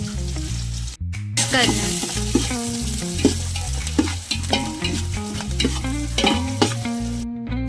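Onion frying with curry leaves in a pan for a jackfruit bhaji, a close, continuous sizzle with repeated scraping strokes of a spoon stirring, and a brief spoken word at the start.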